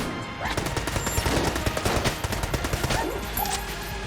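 Rapid, sustained gunfire from weapons in the video game Enter the Gungeon, a dense rattle of quick shots crackling continuously over busy game music and effects, with no talk.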